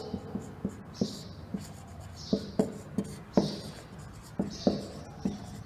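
Chalk or pen strokes tapping and scraping on a board while a Hindi grammar definition is written out, a steady run of short, close, moderately quiet marks with no talk.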